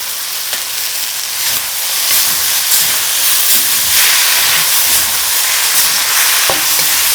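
Cumin lamb sizzles hard in a hot pan as sesame oil goes in, a steady loud frying hiss with faint stirring scrapes and a couple of sharp clicks, no voices.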